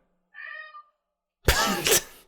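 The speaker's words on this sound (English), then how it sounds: "Is there a cat in here?" A pet cat named Jupiter, shut in a room during a game session, gives a short, clear, tonal meow, then a louder, harsher burst of yowling follows after a pause, both close and standing alone.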